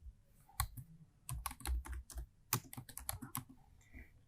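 Close, quiet typing on a computer keyboard, bursts of rapid keystrokes with short pauses and a few firmer key presses, no talking.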